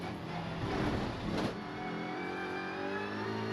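TCR touring race cars at TT Circuit Assen roar past through a chicane, a loud engine surge peaking then fading into a steady distant drone of revving motors.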